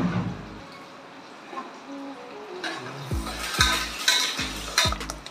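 Curry leaves fry in hot oil in a pan for a village-style mutton curry, with a steady sizzle and a few metal spoon scrapes and stirring clinks toward the end.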